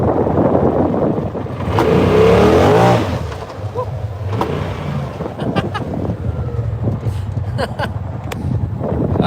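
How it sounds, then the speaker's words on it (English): A RZR side-by-side spins its tires in snow on a mountain trail, the engine revving and roaring up close under heavy wind buffeting on the microphone, with a brief vocal sound partway through. "let's see if we can see some tire spin action"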